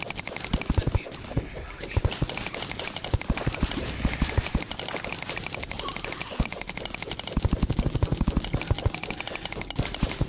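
Rapid, continuous player gunfire in Terraria, a dense stream of sharp, evenly spaced shots rattling on without a break alongside other game sounds.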